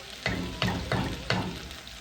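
Rice simmering in white wine in a pan for risotto, with a steady soft sizzle and bubbling broken by four rhythmic stirring scrapes of a spoon, close and fairly quiet.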